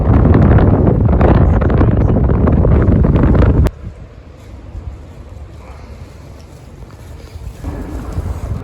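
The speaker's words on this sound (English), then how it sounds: "And I apologise for the wind" Strong wind buffets an outdoor microphone near Ronda in Andalucia, a loud roaring rumble that cuts off abruptly partway through, leaving quieter gusty background noise that builds again toward the end.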